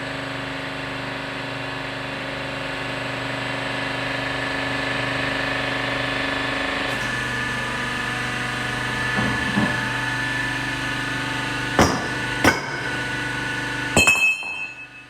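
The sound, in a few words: ProBender 35T pipe bender retracting its ram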